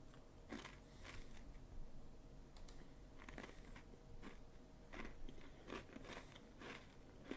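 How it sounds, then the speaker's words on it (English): Food being chewed right at a streamer's microphone, close crunchy bites and mouth clicks repeating irregularly over a steady background hum. "Let me know if the chewing is too loud or anything"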